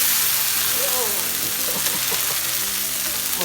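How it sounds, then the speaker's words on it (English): Hash browns fry in a hot pan as they are flipped, giving a loud, continuous close sizzle with scraping and stirring, and a voice faintly audible underneath. "I'm going to flip these hash browns"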